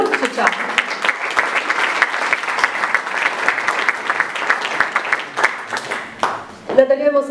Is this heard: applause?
yes